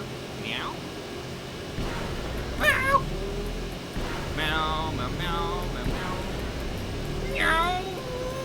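A person's voice imitates a cat, giving several separate mewing meows with rising and falling pitch, spaced a second or two apart over a low room hum.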